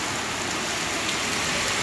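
Steady rain falls on the city of Kenitra, Morocco, a dense, even hiss of drops on hard surfaces with no gaps, close and uniform throughout.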